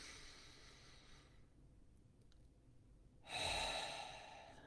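A single deep breath is taken in and let out, a soft, close exhale, then a pause with near silence, then a fuller, louder breath of air.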